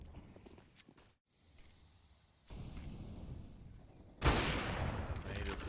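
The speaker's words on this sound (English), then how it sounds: "Now it's an early shot from Twinx to shut down Chiron" Gunfire in Counter-Strike: Global Offensive during a competitive match, with a sharp shot followed by sustained rattling bursts and noisy in-game action, growing louder toward the end beneath a caster's commentary.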